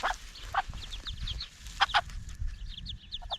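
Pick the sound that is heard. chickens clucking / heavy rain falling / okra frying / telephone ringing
chickens clucking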